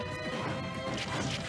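Heavy impact hits as two fighters trade up smashes in Super Smash Bros (Zero Suit Samus, Pokemon Trainer), dense crashing game effects over continuous busy sound and crowd noise.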